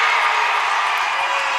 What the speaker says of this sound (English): This crowd is on its feet, wanting the Prowlers to win this one.